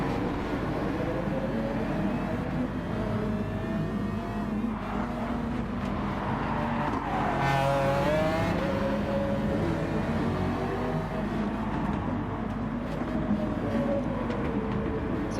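Race car engines in Gran Turismo Sport drone on continuously at a Fuji Gr3 race, with a McLaren F1 among the cars. Engine tones rise and fall with gear changes and passing cars swell in close, with no talking.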